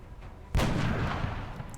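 A single heavy gunshot from the turn-based strategy game XCOM: Enemy Within, a sharp loud blast followed by a booming, slowly fading rumble.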